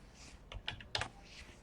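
A few light keystrokes tap on a computer keyboard while a formula is entered in an Excel spreadsheet, soft and close, in a short uneven burst with no talking.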